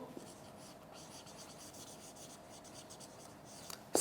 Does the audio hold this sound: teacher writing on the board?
yes